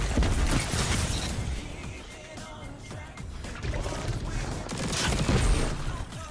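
Gunfire in a Destiny Iron Banner match crackles in dense, rapid bursts over a busy game soundscape, swelling loud at the start and again toward the end.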